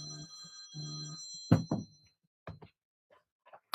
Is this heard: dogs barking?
no